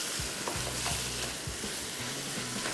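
Anda qeema, minced meat with egg, sizzles and fries in a pan while being stirred, steady close crackling frying with repeated scraping stir strokes at irregular intervals.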